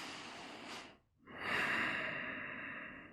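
During a supported headstand flow in a yoga class, someone takes a long, audible breath, then pauses briefly before a full, steady exhale that fades slowly. The breathing is close and clear.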